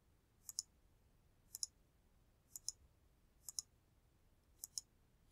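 Five evenly spaced pairs of crisp computer mouse clicks, each a quick double tick about a second apart, faint and close over a quiet room with no talking.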